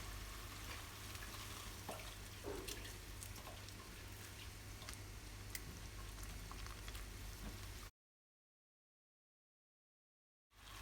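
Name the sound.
balado chili sambal simmering with a little added water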